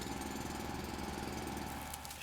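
A mining drill grinding steadily at a biomass source in the factory-building game Foundry, a continuous mechanical buzz with a faint hum running unbroken throughout.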